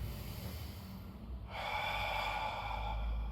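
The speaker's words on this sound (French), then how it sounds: "Allez, j'inspire." A deep inhalation during a Pilates exercise, a quiet breath that swells into a loud, close, sustained intake of air in the second half.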